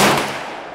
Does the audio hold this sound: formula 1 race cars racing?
no